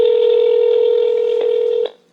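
A phone on speakerphone emits a loud, steady single-pitched ringback or dial tone lasting about two seconds, with a couple of brief clicks near the end before it stops.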